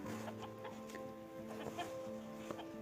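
A rooster's clucking used as a sound effect in an Urdu children's story, a run of short repeated clucks at a steady, moderate loudness, heard alone with no speech.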